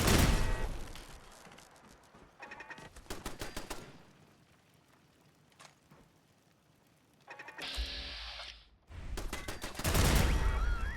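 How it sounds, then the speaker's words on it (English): Machine gun fire in the video game Fallout: London, several rapid bursts of loud rattling shots separated by quieter gaps. "Whose machine guns are these?"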